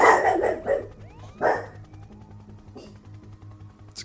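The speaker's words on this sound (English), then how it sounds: "It's a cute dog." A cute dog barks twice, a sharp bark near the start and another after a pause, close and clear over a low steady hum, followed by quieter faint sounds.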